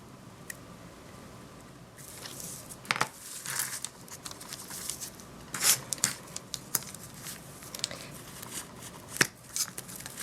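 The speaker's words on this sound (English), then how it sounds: "I'm just going to score it really carefully." X-Acto blade scoring thin soda can aluminum for a bracelet: a run of close, scratchy rasps and light crinkling strokes, irregular and fairly quiet, alone without talk.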